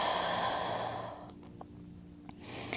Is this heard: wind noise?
no